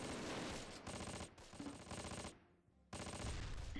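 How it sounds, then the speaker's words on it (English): Sustained machine gun fire rattles loudly in the Close Combat: Wacht Am Rhein war game, dense rapid bursts filling the clip with only a brief lull before firing resumes. "Moving the sticks in to get some machine gun fire down on this infantry here"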